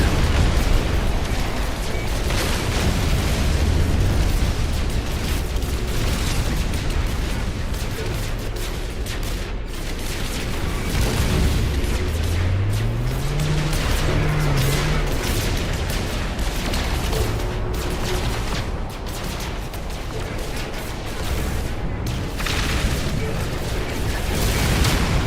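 Enemy ships firing on the player during a space battle in No Man's Sky, a steady dense roar of blasts and booms filling the whole stretch with no clear gaps.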